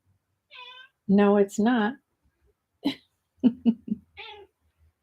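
A pet cat meows for food in short harmonic cries, first one plain meow and then a run of quick calls, answered between them by someone speaking nearby.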